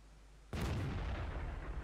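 Tank cannon firing in the World of Tanks video game, a single sudden booming blast after near silence that rolls on into a sustained rumbling decay.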